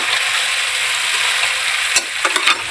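Aloo gobi, potato and cauliflower, sizzles hard in a hot pan with a constant bright hiss, broken near the end by a few quick scraping stirs.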